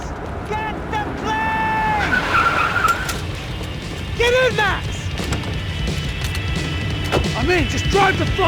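A car in the video game Max Payne 3 drives and skids, its tires squealing in several short bursts over a steady engine and game noise, with voices talking over it.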